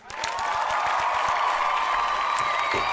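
Clapping in The Quiet Things video game, a sudden crowd applause with cheering that swells quickly and holds steady and loud.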